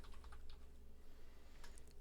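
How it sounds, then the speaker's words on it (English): Quick bursts of computer keyboard typing, clicking keys in short irregular clusters, near and fairly quiet over a low steady hum, with no talking. "you can just click once and begin typing"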